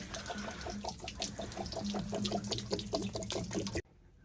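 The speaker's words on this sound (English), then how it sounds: "you would take it out, and then you just let the water come draining out of there" Water drains out of an RV water heater's open drain plug, a steady splashing, bubbling gush close by that cuts off abruptly near the end.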